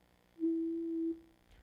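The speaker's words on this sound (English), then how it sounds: "if it's a pure tone, pure sinusoidal tone like this whistle sound on the piano" A pure sinusoidal tone, like a whistle sound played on a piano, a single steady pitch held for under a second, clean and isolated against near silence.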